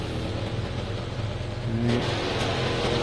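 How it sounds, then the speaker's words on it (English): A race car engine roars steadily in a Project CARS endurance race at Dubai, loud and continuous with a brief rising whine near the end, broadcast commentary faintly behind. "That roaring car there is Rigor."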